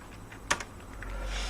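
A few soft, quick keystrokes on a computer keyboard while entering a Linux command, faint and close with quiet room tone around them.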